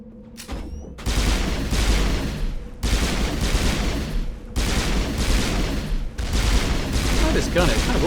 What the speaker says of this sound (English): this gun, it kind of auto-fires 3 shots, which is cool